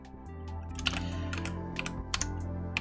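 Keys tapped on a computer keyboard used as an emulated numpad, a handful of crisp, irregular clicks over a steady low electrical hum.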